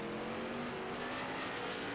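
A race car slides sideways down the track in the iRacing sim at Atlanta Motor Speedway, its engine droning steadily with a faint tire hiss throughout, no talk.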